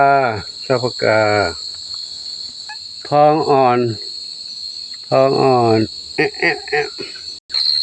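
Crickets chirping at night with a steady high trill running throughout, while someone talks loudly in short bursts over it.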